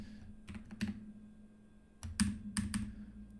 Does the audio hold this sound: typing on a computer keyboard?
yes